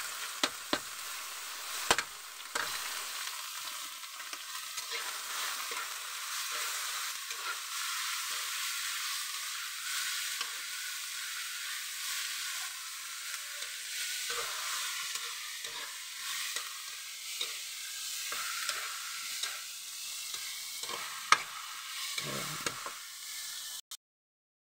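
Alamang shrimp paste sautés in a pan with a little sugar, giving a steady soft sizzle broken by scrapes and stirs of a utensil, with no voices.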